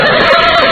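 A horse gives a short, loud, close whinny as riders hurriedly climb back onto their horses' backs, a single wavering neigh with no talk.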